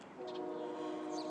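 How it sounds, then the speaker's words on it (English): A distant train in the background, a faint sustained tonal sound like a horn drifting in from afar over quiet outdoor ambience, with a couple of brief chirps. "Hey, we got a train in the background."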